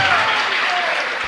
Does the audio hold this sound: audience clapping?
yes